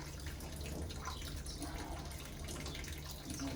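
Water rushing under pressure from a pipe at a New York City water meter installation, a steady loud hiss and splash close by, continuous throughout.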